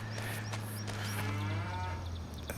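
Cattle lowing in Farming Simulator 25 on a farm at Riverbend Springs, a steady low drone of moos over continuous farm ambience with faint clip-clop-like ticks, fairly close and moderately loud.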